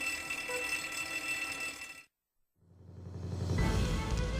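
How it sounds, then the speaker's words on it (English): A loud, continuous electronic fire alarm rings in the video game Trauma Center: New Blood, cuts to silence for about half a second, then swells back in with a heavier, lower-toned ringing. "Is that the fire alarm?"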